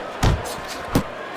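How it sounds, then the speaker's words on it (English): A right-hand punch lands on the head in the boxing video game Fight Night Champion, a short dull thump followed by a second similar impact just under a second later, both crisp and close. "Little head knocking with that right hand"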